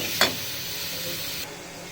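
Ginger garlic paste frying in a pan while being stirred, a quick scrape at the start followed by a steady soft sizzle that drops away near the end, with no talking.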